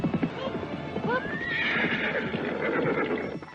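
A horse that is tired and barely able to keep walking clops its hooves along and lets out a clear whinny, close and loud, with a faint voice in the background.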